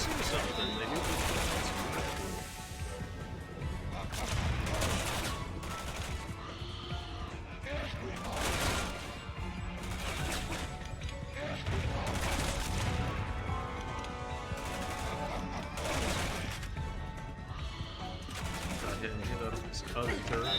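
Automated turrets fire in Resident Evil 6, with repeated bursts of gunfire and crashing impacts over a dense game soundscape, while a person talks throughout.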